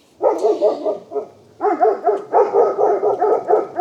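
A caged dog barks repeatedly and loudly at close range outdoors beside a storage cabin, in two bursts of rhythmic barking separated by a brief pause.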